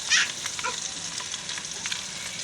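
Spices fry in hot ghee in a home kitchen, giving a steady close sizzle and crackle with light stirring scrapes throughout and no voices.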